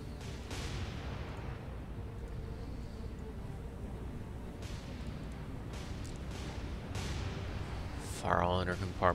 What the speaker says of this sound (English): Secondary guns are cleared to open fire. Just get some shells down range.